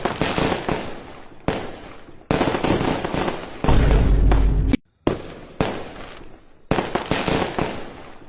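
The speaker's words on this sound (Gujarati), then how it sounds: "એના સ્વાગત માટે જો બોમ્બ ફોડવાના ચાલુ થઈ ગયા" Rapid crackling bursts of firecrackers going off in loud, dense clusters at a village volleyball tournament, with brief pauses between volleys and one sustained heavy blast near the middle.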